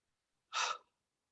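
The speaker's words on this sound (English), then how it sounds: "let's just take a couple of deep breaths" A single deep breath, close and quiet, rising sharply and fading over about half a second in a calm morning meditation setting, with no talking.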